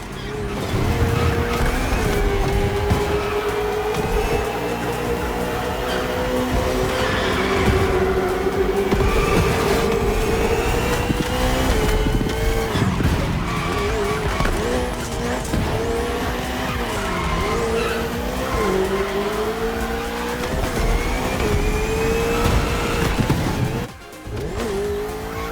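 A KTM RC16 and a Ferrari 488 GT3 race on a circuit in The Crew Motorfest, engines howling loud and steady with shifting pitch and repeated tire squeal through the run, with no talking.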